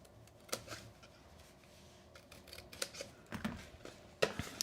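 Scissors cutting paper along score lines while crafting a tapered clutch gift box: a handful of sharp, close snips at irregular intervals over a soft rustle, with no talk.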